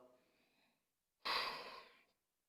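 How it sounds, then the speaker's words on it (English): Breathing during an intense yoga hamstring stretch: a soft, faint breath, a pause of silence, then a louder, close, airy exhale lasting under a second. "Breathing in and out."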